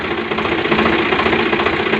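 A Swaraj 735 FE tractor engine runs at a steady idle close by, with a loud, rhythmic diesel knock that never lets up and no voices over it.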